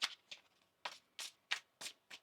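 A tarot card deck is shuffled in quick riffled bursts, about seven soft crisp flutters spaced unevenly, close and fairly quiet with no talking.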